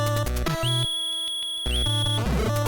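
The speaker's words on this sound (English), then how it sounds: "I'm trying to blow the whistle" A whistle blown in the NES game Mike Tyson's Punch-Out!!, a steady high electronic tone held for about a second amid busy chiptune music and game effects, loud and close.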